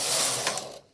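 A knitting machine carriage is pushed across a row: a brief, loud mechanical whoosh with a ratcheting rattle, close by. It fades out at the end of the pass, with no voices.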